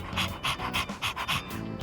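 A dog in the video game Persona 3 pants rapidly and rhythmically, about seven quick breathy huffs close up, loud and even, with no talking.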